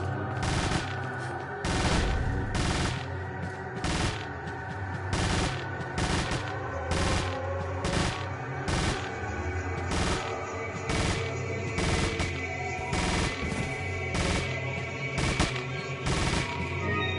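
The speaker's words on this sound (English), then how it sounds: "he's still firing his gun like whatever" Gunfire in Resident Evil 4 (2005), a steady series of loud, sharp shots spaced roughly half a second apart, repeating without pause over a low game ambience.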